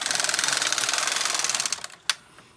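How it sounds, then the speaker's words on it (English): A Brother KX 350 or LK 150 knitting machine carriage runs across a row at tension 2, giving a rapid, even mechanical clatter that cuts off with a final clack near the end. "then I'm going to knit across at tension"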